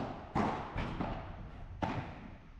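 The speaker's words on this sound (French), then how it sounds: "l'impact de la balle sur la raquette" A padel ball strikes the racket on a serve during a P100 tournament match, heard as a few hollow, punchy thuds spaced about a second apart amid steady court noise.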